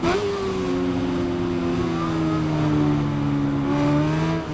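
A BMW S1000RR superbike in the Ride 5 racing game holds a high, steady engine whine near full revs, with pitch rising and dipping slightly through gear changes, loud and continuous with no talk.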